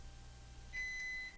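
Microwave oven signals that an egg has finished cooking with one sustained electronic beep, clear and fairly close, sounding over a low background hum.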